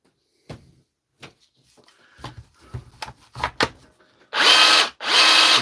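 A faulty DeWalt battery power tool runs in two loud, sustained grinding bursts of about a second each, preceded by scattered clicks and handling knocks.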